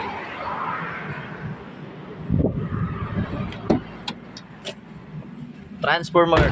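Car door and interior handling sounds as people get back into a vehicle on a coastal road, with short clicks and knocks near the end under soft background noise.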